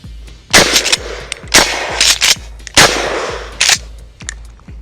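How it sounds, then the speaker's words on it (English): KelTec KSG pump shotgun firing several loud, close shots, each broadband blast followed by the clack of the pump being racked hard back and forward, in quick succession with brief pauses between rounds. "And I'm going to shoot this just like I normally would the KSG. Rack it hard all the way back, all the way forward."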